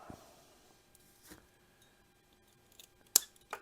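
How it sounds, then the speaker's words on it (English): Scissors trimming at the edge of a leaded glass garden art piece, a few small sharp snips scattered across quiet room tone, the last ones crisp and close. "Trim it right at your glass."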